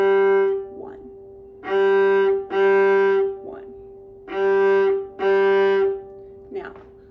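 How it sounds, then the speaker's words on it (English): Open G string on a viola bowed in detached quarter notes, alternating down and up bows, five sustained tones with short silent gaps between them, close and clear, with no talking. "let's try this just with our open G string, and I'm gonna just play down, up, and I'm gonna have a little bit of space in between each note."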